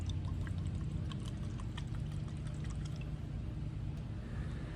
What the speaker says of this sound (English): pour a little bit of Bulleit here